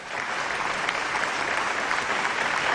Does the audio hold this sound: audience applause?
yes